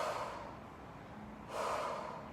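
Breath exhaled during a leg-changing exercise, two soft, close, airy breaths, the second starting after a short pause.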